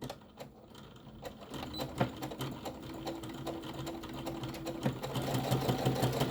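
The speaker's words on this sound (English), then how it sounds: "I'm going to back stitch, and then I'm going to stitch again and really reinforce that" A sewing machine back-stitches and reinforces a fabric tie on a roll-up crayon carrier, its rapid, even needle clatter running continuously close up and growing slightly louder toward the end, with no voices.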